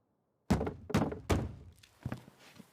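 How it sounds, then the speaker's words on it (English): Knocking at a door in an anime episode: three heavy, hollow thuds in a steady rhythm, followed by a couple of softer, duller knocks, close and fairly loud with no talking. "That's someone knocking at your door"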